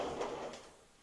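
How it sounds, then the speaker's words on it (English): A folding vinyl shower door in a retro condo bathroom being moved, giving one soft, muffled scraping rustle that fades out over about a second, close and fairly quiet. "I've seen regular shower doors that slide like that, but never like a folding vinyl one"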